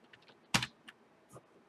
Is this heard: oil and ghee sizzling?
no